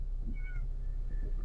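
A cat meows inside a car, two or three short, close, fairly quiet cries over a steady low engine and road rumble, with no talking.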